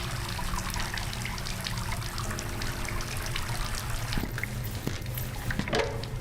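A tap left running in an asylum horror video game, steady close trickling water throughout with a few soft clicks near the end.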